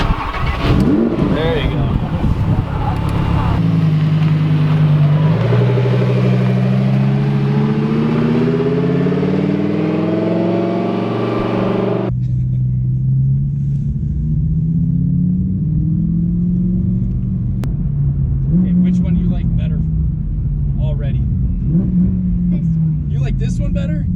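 A Lamborghini engine cranks and fires up under a child's seat, then settles into a loud, steady rumble with rising revs, close by, with people talking over it.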